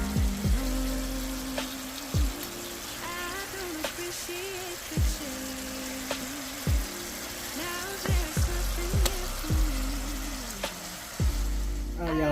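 Spicy pineapple glaze sauce for wings cooks down in a pan with a continuous sizzling, bubbling hiss, punctuated by occasional sharp knocks and sweeping tones.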